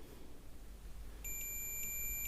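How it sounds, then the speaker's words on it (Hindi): A multimeter set to its continuity buzzer range emits a steady high electronic beep that starts partway through and holds to the end, over low background hum during a free-dish supply board repair. "यहाँ पर मल्टीमीटर को बजर की रेंज पे सेट करना भूल गया।"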